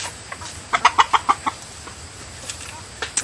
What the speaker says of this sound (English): he came up to crow for you